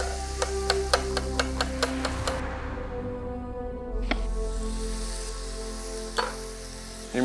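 Onions fry in a hot pan with a dense, steady sizzle, close and loud, while a run of quick regular ticks and then a few scattered clicks sound from utensils or the pan.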